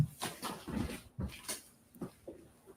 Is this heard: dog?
yes